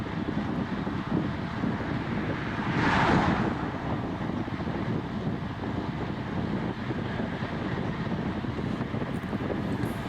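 Wind roaring past a cyclist riding at speed in a group on an open road, a steady broadband rush with a brief swell midway and no voices.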